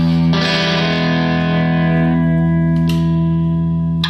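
Wudtone electric guitar with absolute jumbo frets and a 14-inch radius, played through effects: one strummed chord rings out loud and sustained with distorted, chorus-like shimmer and echo, a brief second pick near the end.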